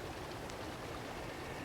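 A waterfall in the Hokkaido level of the video game Hitman rushes with a steady, broad hiss of falling water, soft and continuous with no voices.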